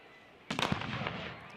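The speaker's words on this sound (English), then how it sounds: "Fireworks as we start the third quarter here at Bobcat Stadium" Fireworks burst at Bobcat Stadium during a Montana State college football game against Eastern Washington, a sudden loud crackling volley of several sharp pops that sets off a rumbling, echoing tail.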